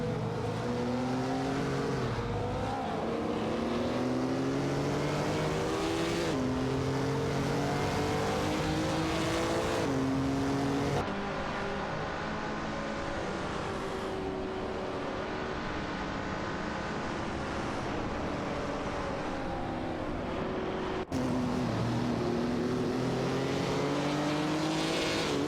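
In an AI racing video game, an Alpine A110 1800 and a Fiat X199 Dallara race with loud, continuous engine howls, pitch rising and falling through gear shifts and passes, with occasional abrupt cuts.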